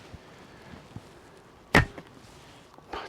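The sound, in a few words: arrow shot from Mongolian biocomposite bow, lightweight 380 grain arrows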